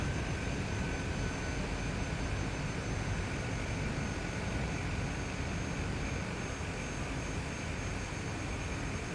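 A simulated airplane engine drones in a flight simulator game, a steady, loud, unbroken roar that holds level throughout with no voices over it.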